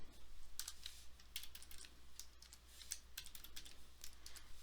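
Quick bursts of computer keyboard typing, close and fairly quiet, with irregular clusters of key clicks over a steady low electrical hum.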